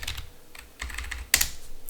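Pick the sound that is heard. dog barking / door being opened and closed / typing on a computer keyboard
typing on a computer keyboard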